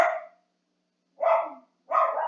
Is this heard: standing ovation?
no